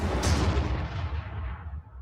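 Gunfire and heavy cannon fire in a Warhammer Armageddon battle as guns open up on tanks, a dense, loud rumbling barrage with sharp reports at the start that keeps going throughout.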